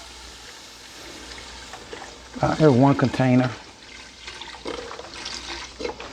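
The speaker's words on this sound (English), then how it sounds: "Now it's time to start adding some of our chicken broth" Chicken broth pours from a container into a pot of seafood chowder, a steady close splashing stream that swells briefly, under someone talking.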